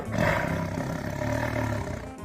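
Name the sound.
zookeeper imitating an angry tiger's roar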